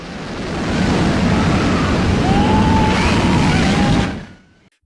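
Sea water crashes back together in a loud, sustained roar of surf and rushing wind that holds steady for about four seconds and then cuts off abruptly.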